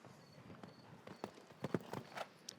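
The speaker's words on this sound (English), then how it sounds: "He just canters down there easily." A show-jumping horse canters on an arena surface at a million-dollar grand prix, its hoofbeats landing in soft, uneven, fairly distant thuds over a low background hum.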